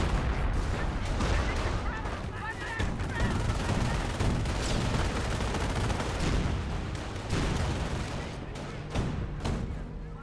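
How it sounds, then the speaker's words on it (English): Calliope rocket barrage in the Company of Heroes video game, dense continuous rumbling explosions and gunfire filling the whole stretch, with a commentator talking over the battle noise. "And we do have this Calliope rocket barrage there."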